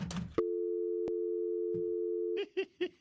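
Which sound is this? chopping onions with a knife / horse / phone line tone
phone line tone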